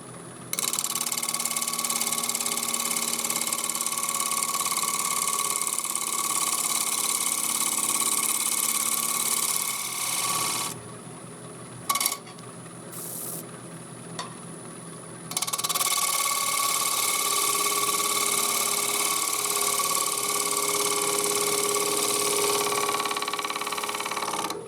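Wood lathe spinning an unbalanced, off-center workpiece, running loud and steady with a buzzing vibration, dropping away briefly midway with a few clicks before returning at full level.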